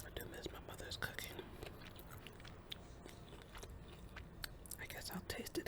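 Close-up chewing and biting of Whole Foods red pepper salmon, with soft wet mouth sounds and small crunches running steadily under quiet whispering throughout.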